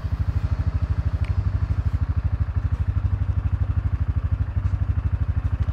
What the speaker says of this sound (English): Somebody could turn that quad bike off for me